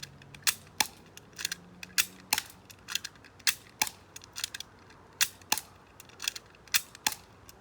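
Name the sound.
airsoft HK P30 pistol being cocked and fired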